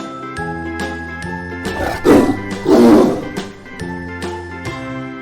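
A cartoon-style tiger roar in a children's alphabet song, two short growling roars in the middle set against bright tinkling jingle notes and chimes, with no talking.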